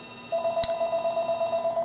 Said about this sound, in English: There's the phone.